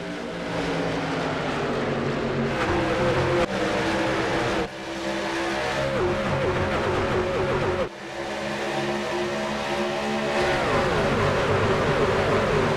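Race cars in the iRacing sim roar off at the green flag of an eNASCAR Road to Pro qualifying race at Las Vegas, a dense layered engine drone with rising revs and gear shifts, loud and continuous, with brief dips between pulls.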